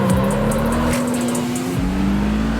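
Video game car with a tuned gearbox running on sport gas launches hard, its engine tone climbing steadily with a brief shift dip, loud and continuous with no talking.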